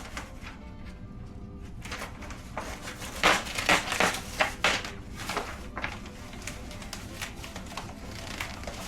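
Paper or cloth rubs and scrapes against fireplace glass being cleaned with ash, a run of irregular close squeaky wiping strokes that grow louder in the middle, over a low steady background hum.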